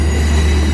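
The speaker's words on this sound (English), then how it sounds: "Here comes the Oyster Bay train" Oyster Bay branch Long Island Rail Road train rolling past at a Mineola crossing near Willis Avenue, a loud, steady close-up rumble with a deep low drone and hiss throughout, no voices.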